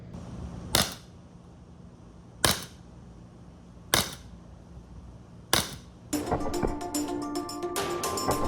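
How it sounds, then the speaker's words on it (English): Four sharp, loud pops from an LTL Alfa .50 caliber less-than-lethal launcher firing metal balls into a board, evenly spaced and standing alone, then a burst of rattling, clattering activity at the end. "We will shoot this virgin side, and I will put it on this measured board right here so we can see how deep our 50 caliber metal balls will enter."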